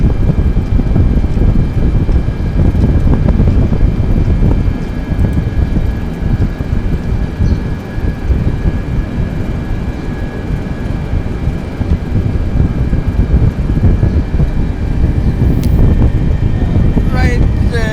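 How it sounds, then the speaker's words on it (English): A Boeing 747-800 taxiing toward runway 31 at an airport at night, its steady loud engine roar and broadband rumble filling the whole stretch with little change in level. "we are still on a taxi towards the runway 31"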